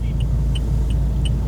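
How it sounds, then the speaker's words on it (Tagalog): Tricycle motor traffic on Molina Street, a steady close engine rumble with a faint repeating high ticking over it, no voices. "Ang daming tricycle dito."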